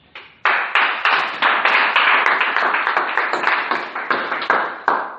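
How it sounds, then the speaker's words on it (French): A church congregation applauding during a sermon, a loud, close burst of rhythmic clapping that starts abruptly and keeps a steady beat for several seconds. "Est-ce que tu peux acclamer pour la parole de Dieu?"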